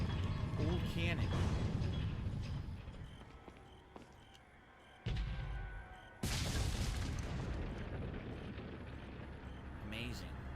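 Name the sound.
old cannon firing in the video game Resident Evil 4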